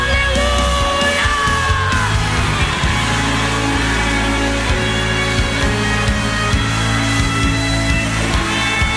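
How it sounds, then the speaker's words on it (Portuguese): A church congregation roars and yells hallelujah in a dense, continuous wall of shouting voices, loud and reverberant throughout, with musical tones sustained underneath. "dê um brado de vitória, solte um grito de aleluia"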